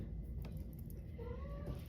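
A cat, restless and clambering up to high ground indoors, lets out a single faint, drawn-out meow near the end, rising then falling, over a low steady room hum.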